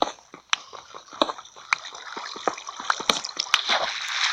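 Water flows and trickles in a Minecraft mining session, with scattered drips and small splashes over a steady wet hiss, growing busier toward the end.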